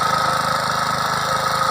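Close, steady idling of a tractor engine on a hillside farm, an even low throbbing hum with fine rhythmic knocking that holds constant throughout, with no talking.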